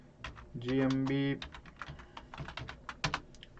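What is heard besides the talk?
typing on a computer keyboard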